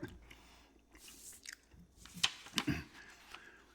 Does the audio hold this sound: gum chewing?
yes